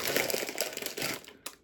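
Crisp, dense crackling of smoky paprika potato chips being crunched close up, a steady run of broadband crunches that thins out near the end with one last sharp snap.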